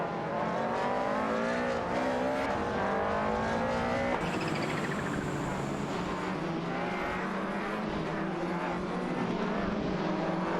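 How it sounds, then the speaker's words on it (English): Computer-controlled race cars in a video game lap the track with a continuous engine drone, the pitch sliding up and down as the cars accelerate and pass, steady and moderately loud throughout with no talk. "Let's enjoy the AI cars zooming around the track together."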